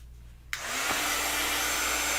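Handheld heat dryer switched on abruptly to dry ink on a craft card, a loud, steady blowing whoosh that starts suddenly and carries on without a break.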